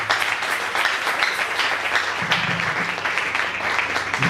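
A church congregation at a Sunday service claps and cheers in steady, dense applause, filling the room continuously throughout.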